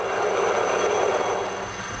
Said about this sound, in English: A chopper.